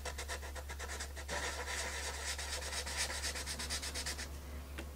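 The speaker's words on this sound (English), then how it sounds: "I'm going to sand the ridge down" Steady abrasive rubbing of sandpaper worked over a taped ridge, a continuous close scratchy hiss with quick back-and-forth strokes over a constant low hum, no voices.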